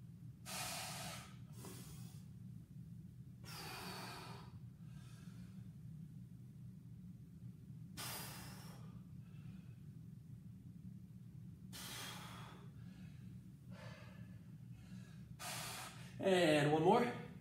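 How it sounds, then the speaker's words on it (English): Heavy, deep breathing during an at-home OTF workout, with regular broadband breath bursts roughly every two to four seconds over a steady low hum, ending in a louder, strained exhale. "Nice deep breaths."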